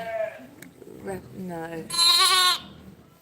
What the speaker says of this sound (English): I've got a lamb here, drinking off the bottle for the first time in its life